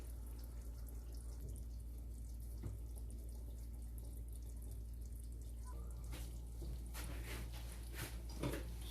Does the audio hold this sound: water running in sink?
yes